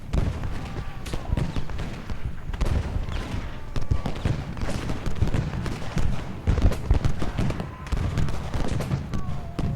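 Massed musket volleys from skirmishers in the Ultimate General: Gettysburg battle game, a dense, continuous crackle of overlapping shots and booms with no pauses, steady and moderately loud throughout.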